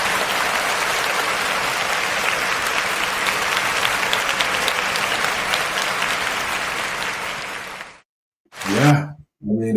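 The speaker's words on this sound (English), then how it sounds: "they deserve a round of applause" A crowd gives a loud, sustained round of applause for about eight seconds, then it cuts off abruptly, followed by a couple of short, loud bursts of sound.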